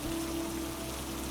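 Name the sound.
rain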